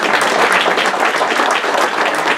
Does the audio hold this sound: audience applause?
yes